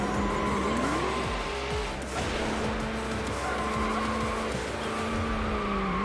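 V12 car racing in Need For Speed Hot Pursuit 2, the engine howling loud and close as its pitch climbs and drops through gear changes, with tire squeal and skidding over it.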